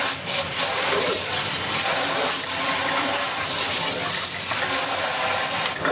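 Water rushing and gurgling steadily down a freshly unclogged kitchen garbage disposal drain, a continuous loud gush with no pauses from start to finish.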